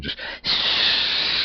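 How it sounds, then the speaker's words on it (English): Steam hissing in a sauna scene from the film The Empty Man, a loud, broad, continuous hiss that surges in after a brief stutter and fills the space, with a single spoken word at the start. "With the hissing of the steam"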